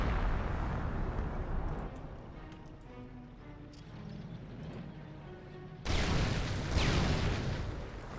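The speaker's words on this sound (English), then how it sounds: "Mines go off, possibly for a 2nd time against this Grenadier" Land mines detonating in Company of Heroes during a 2v2 match, a sudden loud, broad blast near the end that cuts through a dense rumble of ongoing battle noise and distant gunfire.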